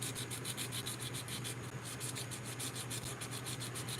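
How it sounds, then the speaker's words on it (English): Clear coat is rubbed or sanded off metal in steady, rapid back-and-forth scrubbing strokes, close and continuous with no talk. "You have to clean the clear coat off of this metal now."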